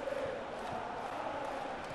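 Stadium crowd noise from a PES 2014 football video game, a steady broadband murmur holding at an even level for the whole stretch, with no talk over it.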